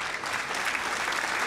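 Steady applause fills the whole moment, an even crackle of clapping from a crowd in the Hogwarts Legacy game on PS5, loud and continuous without pause.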